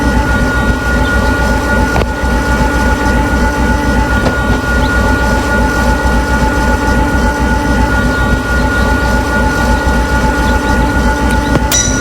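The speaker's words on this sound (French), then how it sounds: "On arrive à la gare d'Épinal" A Z 50000 electric train rolls into Épinal station on the Dijon–Nancy line, with loud, steady rumbling, rhythmic wheel clatter over the rails and no voices.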